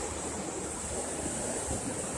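River water flowing around the island at Island Park in Bryson City, North Carolina, a steady broadband rush that stays close and even throughout, with no voices.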